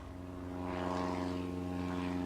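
A small propeller plane from the 1920s era drones in a game, its steady engine hum with strong harmonics swelling slightly louder after the first half second, alone without talk.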